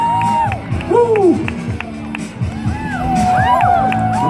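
Crowd cheering and whooping at a parkour competition at the CNE, with excited shouts and scattered cries rising over steady crowd noise, and a voice calling out close by.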